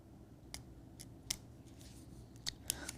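A craft cutting tool snips through material in a quiet room, giving several sharp, brief clicks at irregular intervals over a low background hiss.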